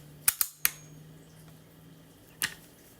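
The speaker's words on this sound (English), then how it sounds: "let's go ahead and cock the gun." A Crosman or Benjamin airgun fitted with a TKO moderator is cocked about two feet away, giving a quick cluster of three sharp metallic clicks, then a single louder snap a couple of seconds later over a faint steady hum.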